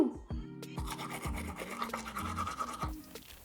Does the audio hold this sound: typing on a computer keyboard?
no